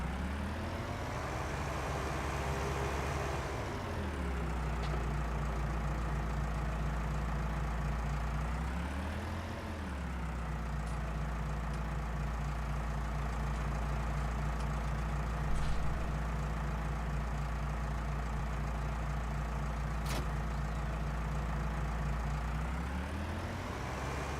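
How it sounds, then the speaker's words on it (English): A tractor engine runs steadily throughout, a loud continuous diesel drone with low rumble whose pitch dips and rises a few times as revs change, no speech. "I need to now go back into my tractor and bring the trailer down"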